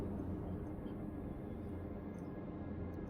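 A fast spaceship in Star Citizen flies with a steady low engine roar and rushing drone, constant and fairly faint throughout, with no clear voices over it.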